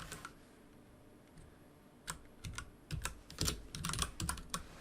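Fingers type a code snippet on a computer keyboard in VS Code: quick, close, fairly quiet clicking keystrokes come in irregular bursts that thicken toward the end, with no talk.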